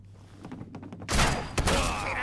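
Shotgun blasts in the game Fallout: a few soft thumps at first, then a loud broadband boom with a second sharp blast shortly after, close and dominant, with no talk.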